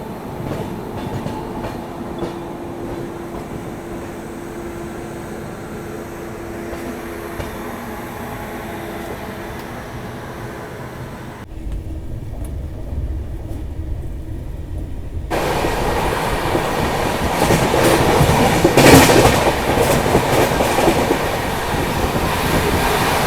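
A Garib Rath Express train pulled by a WAP7 locomotive runs steadily with a continuous rumble and clatter of wheels, dropping out briefly and then coming back louder and rougher.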